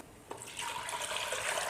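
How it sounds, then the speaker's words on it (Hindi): Yakhni stock water poured into a pot of Lucknowi mutton biryani, a soft splash and then a steady, close liquid rush that keeps going to the end, with no talk. "और अब इसमें हम ऐड करेंगे यखनी वाला पानी"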